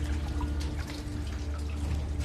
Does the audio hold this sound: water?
yes